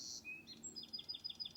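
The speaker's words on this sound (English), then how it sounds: "that bird there. Thank you, bird." A songbird chirps in a rapid series of short, bright, evenly spaced calls, faint and close, after a few higher whistled notes, with no voices over it.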